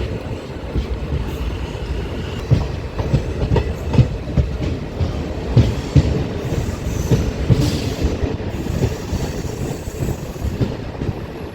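A train on the Mhow rail line rolls along with steady rumbling and rhythmic clickety-clack of wheels over rail joints, heard from on board and fairly loud, with no talking.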